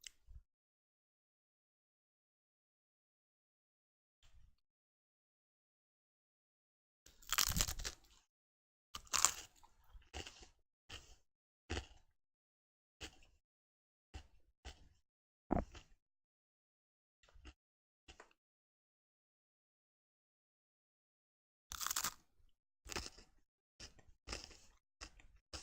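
Someone chews a piece of Italian dried sausage, giving scattered crunchy, wet bites in close-up bursts separated by long quiet gaps, with a dense cluster of chewing near the end.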